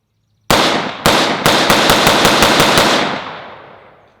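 Rapid rifle shots from a BCM 14.5-inch SOCOM rifle at an outdoor range: two single sharp cracks, then a quick string of about eight shots in steady rhythm, loud and close, ending in a lingering echo that fades away.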